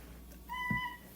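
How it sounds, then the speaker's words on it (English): Benny, a pet cat back from a morning stroll, gives a single short, clear meow, close and fairly soft, over a low steady room hum. "It's Benny, my cat."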